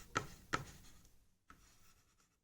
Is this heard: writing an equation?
yes